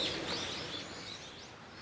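Birds chirping and calling near a small shrine in Tokyo, high tweets over a steady outdoor background, moderately distant and fairly faint.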